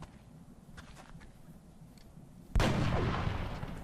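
A single sharp gunshot from a soldier in XCOM: Enemy Unknown rings out loudly with a decaying tail, following a low steady game ambience and faint clicks, and no speech.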